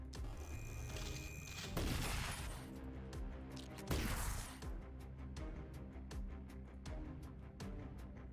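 Gunfire from rifles in The Last Spell, a traps-and-defenses battle: two heavy crashing volleys followed by a steady rhythm of sharp, evenly spaced shots over a busy game backdrop.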